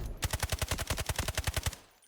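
Car 15 rifle fire in the shooter video game Delta Force, a rapid automatic burst of about fifteen evenly spaced shots at a steady rhythm, loud and close, ending abruptly.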